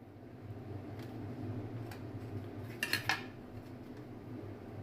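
A knife knocks against a plate or board while slicing stuffed bread samosa pieces, a few faint taps and then a brief cluster of sharp clinks over a steady low kitchen hum.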